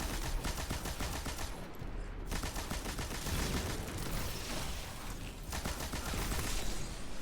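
Sustained automatic machine gun fire in the shooter game Destiny 2, a loud unbroken rattling stream with brief gaps, heard alone without talk.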